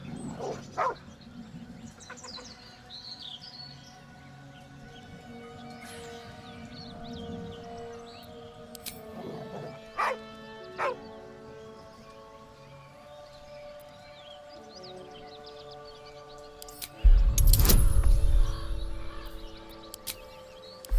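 A dog in Baldur's Gate III barks and yips in short bursts with a whimpering whine, then a loud, harsh outburst near the end over quiet ambient game sound.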